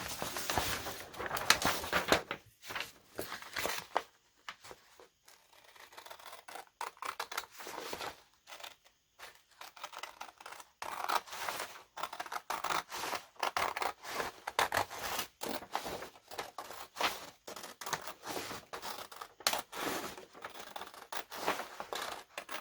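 Scissors cut folded paper signatures for a junk journal along the fold line, a long run of close, crisp snips in an uneven rhythm with a quieter stretch partway through.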